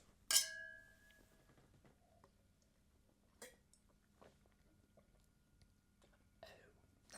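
One sharp, bright clink of wine glasses meeting in a toast rings out and decays, followed by faint scattered small clicks and quiet sounds in a hushed room.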